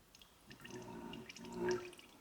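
Used engine oil from a 3.0 Duramax drains into a 5-gallon pail set on an old Snap-on stool, a faint trickling, splashing stream with a few brighter drips rising near the end.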